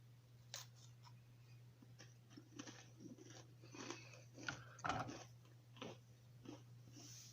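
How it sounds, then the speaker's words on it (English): Fresh crackers spread with peanut butter crunched in a series of crisp, close bites and chews over a steady low hum, with no talking. "Crackers, perfectly fresh and crunchy."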